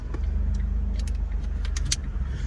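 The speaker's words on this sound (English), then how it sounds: "The Garden District Security just drove by. That white pickup truck said Garden District Security." A white pickup security truck drives past on a street in New Orleans' Garden District, its engine a steady low rumble heard from inside a moving car, with faint clicks and light jangling over the drone.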